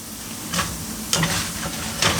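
Potatoes for a frittata sizzle and fry in a pan, a steady crackling hiss punctuated by a few louder bursts as they are stirred.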